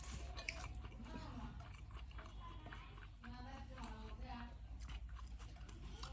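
Someone eating a home-cooked lunch of chicken roast nearby: soft wet chewing and small squishy mouth sounds, steady and low under ongoing talk in a village setting.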